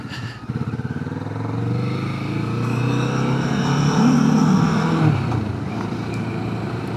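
Motorcycle riding along a foggy valley road between Tawonga and Mount Beauty at the foothills of the Alpine area, steady engine drone with wind rush, rising slightly as it accelerates, close and continuous.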